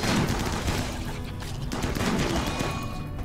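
Rapid volleys of gunfire from colonists shooting in the video game RimWorld, a dense overlapping rattle of shots that keeps up without a break and carries no speech.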